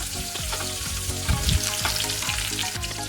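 Drumstick, beans, bottle gourd and tomato hit hot oil in a pan for sambar, giving a steady, close, loud sizzle and frying crackle with a few stirring clatters partway through, no voices.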